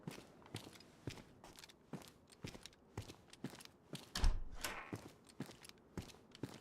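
Footsteps crunch along steadily in DayZ's Chernarus, a regular rhythm of roughly two steps per second that is close and fairly loud, with one heavier, louder step near the middle and no talking.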